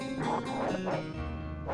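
A dog in the Super Ghouls 'N Ghosts video game gives several short, tonal barks and yelps in quick succession, up close and fading at the end.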